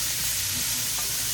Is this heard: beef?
yes